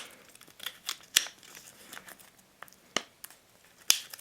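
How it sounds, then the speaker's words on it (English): A penknife slicing open the plastic packaging of a Betron Super Clean dust cleaner, with sharp close snips and crinkly plastic rustles spaced out irregularly, faint and alone. "Time for the penknife here. Let's cut it open and see what we have inside."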